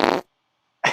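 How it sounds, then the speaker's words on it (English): Two short, loud fart sound effects, a brief blurt followed by silence and then a second blast cut off at the end. "I'm gonna make a whole bank of like hundreds of fart sound effects."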